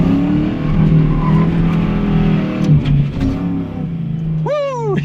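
A Corvette does a smoky burnout, engine roaring loud and close with a sustained high rev, then dropping as tires chirp and squeal near the end.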